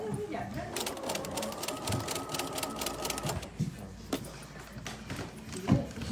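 A domestic sewing machine stitches forward along the seam of a tote bag sewn with French seams, a steady rapid mechanical whirr running for about three seconds. It then stops, leaving light handling clicks and rustles, all close to the microphone.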